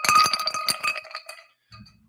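Ice cubes clinking into a drinking glass: a quick run of bright, close clinks and rattles over about a second, fading out before a short soft rumble at the end.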